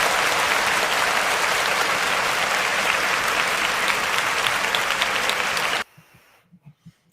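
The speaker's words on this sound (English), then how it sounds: "So we'll give Brandon Scott a round of applause because, he deserved it, right?" A crowd gives a loud, sustained round of applause, many hands clapping in a dense wash for nearly six seconds before it cuts off abruptly, leaving a few faint thumps and near silence.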